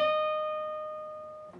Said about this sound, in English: We're going to once again pick the 15th fret of our B, and we're going to just bend it up a full step this time.